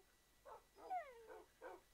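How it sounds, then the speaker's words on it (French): Dogs upstairs give four short, muffled barks in an irregular rhythm, with a whining, whimpering yelp between them, heard alone. "On dirait qu'il y a des chiens en haut."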